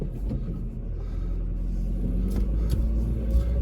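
A car in first gear pulls forward with a low, steady engine rumble heard from inside, continuous and moderately loud with light rattles over it and no talking.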